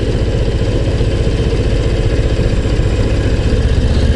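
A Harley-Davidson Low Rider ST motorcycle rumbles steadily while being ridden at an easy pace, its low, throbbing engine note constant and close with no break.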